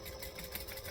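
A sewing machine runs steadily, stitching the side seam of a tote bag with a continuous, even mechanical whir at close range.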